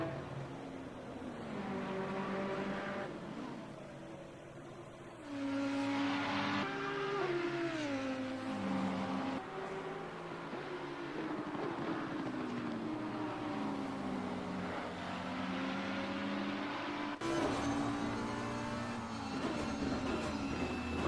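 McLaren race car engines drone and shift pitch during an overtake at Brands Hatch in Assetto Competizione, several overlapping revving tones rising and falling steadily throughout.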